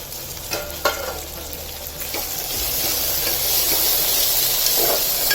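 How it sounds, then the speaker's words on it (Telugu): Mint leaves frying in a little oil for mutton kheema, a steady close sizzle and hiss that swells louder after a few seconds, with a couple of stirring knocks early on. "తర్వాత పుదీనా, ఇంక ఆకులన్నీ కొంచెం మంచిగా ఫ్రై అయ్యేంత వరకు ఒక 2 minutes."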